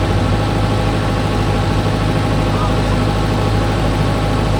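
A JCB 3DX backhoe loader's diesel engine runs in a steady low throb while it scoops and loads soil, loud and close throughout, with a voice talking over it.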